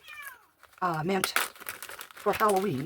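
A cat named Big John meows several times, plaintive wavering cries rising and falling near the mic, overlapping a person talking and some crinkling rustle.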